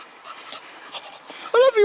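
A dog pants softly in the woods, quick faint breaths under a quiet outdoor background, followed by a short louder whine-like vocal sound near the end.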